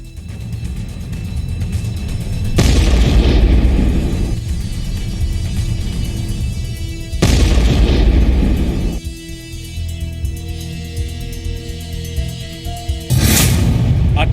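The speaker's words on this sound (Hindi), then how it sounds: "Super blast." Massive explosions from the largest US bomb dropped on ISIS in Afghanistan: three loud, broadband blasts, each followed by a deep, lingering rumble.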